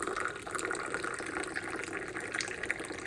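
Water pours steadily into a teapot to rinse mint tea leaves, a continuous close splashing fill with no voices.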